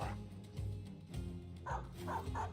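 Dogs in the video game Battle Brothers bark and yelp in quick bursts, several animals overlapping at a moderate level with a few whiny yips.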